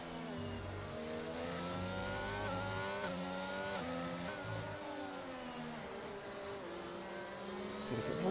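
Red Bull Formula 1 car racing at the Hungary round, engine whining loud and steady with rising and falling pitch through gear changes, sustained close and continuous throughout.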